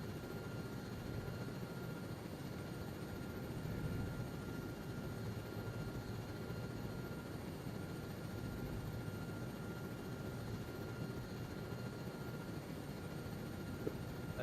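Helicopter rotor and engine drone in a Vietnam war video game, a steady dense whir holding evenly throughout as the aircraft comes down to land, with no voices.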